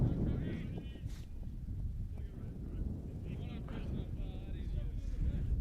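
Breezy evening wind buffets an outdoor soccer field in Lynchburg, Virginia, a steady low rumble that goes on throughout, with faint distant voices.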